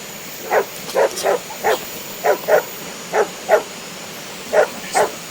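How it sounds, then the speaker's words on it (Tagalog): A dog barks repeatedly in short bursts, a dozen or so sharp barks at an uneven pace, somewhat distant against a quiet background. "aso na naman yung narinig namin"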